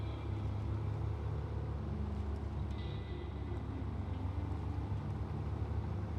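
A truck engine in SnowRunner labours steadily while the vehicle is stuck, a low continuous rumbling drone at moderate level with no clear revving peaks.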